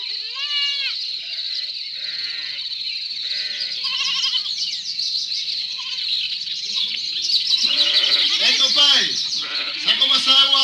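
Several sheep bleat in a rural setting, a string of wavering cries near and far with short gaps, rising toward the end over a steady high-pitched background of birds or insects.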